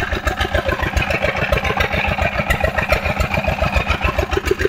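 A Kawamoto 6 hp engine drives a pump drawing water from a 4-meter bore well. It runs close and loud with a fast, even thumping beat and a rattling clatter.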